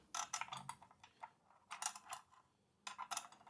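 Mounting bolts for the chrome-delete parts of a Continental GT 650 motorcycle are fitted and turned by hand, giving quiet, close metallic clicks and ratcheting scrapes in three short bursts separated by pauses, with no talking.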